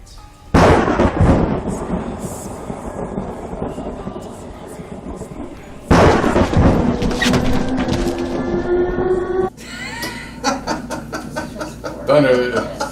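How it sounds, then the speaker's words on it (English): Deep rumbling thunder rolls in long, loud waves, building and fading in repeated bursts with a crackling edge, fairly close and dominating the scene. "Thunder."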